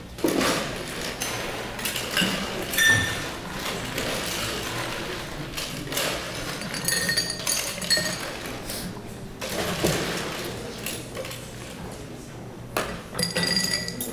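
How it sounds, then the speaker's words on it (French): Ice cubes clinking into a cocktail shaker during a bartending competition in Polynesia, a long run of bright glassy clinks and rattles, some loud and some soft, with brief pauses between scoops. "je remplis mon shaker de glaçons"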